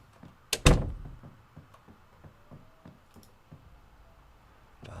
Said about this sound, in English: let's shut this door